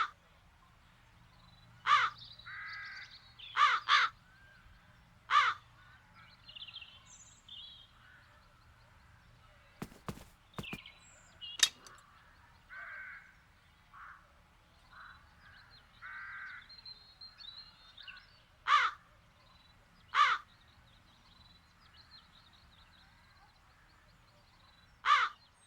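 Crows caw in The Dark Eye: Chains of Satinav, sharp single and paired calls spaced out over a quiet ambient game background, with softer tonal sounds in between.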